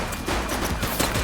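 Rapid gunfire in The Precinct police game: a dense burst of overlapping shots crackling loud and close for just over a second.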